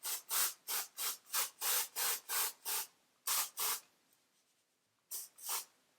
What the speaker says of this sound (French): Du coup je pchite sur les racines.